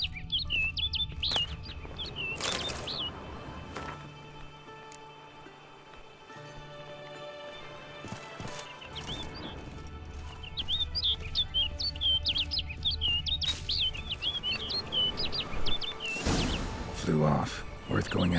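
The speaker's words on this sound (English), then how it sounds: "Looks like the bird's leading me somewhere." Birdsong in The Witcher 3 game world: repeated high, thin chirps and tweets over an ambient, rain-like background hiss, with several louder broadband bursts and some talk in between.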